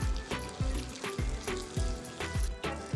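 Ginger garlic paste and fried onion paste fry in a pan. The sizzle comes in bursts with a regular rhythm, like repeated stirring or pressing, close and fairly quiet, with no talking.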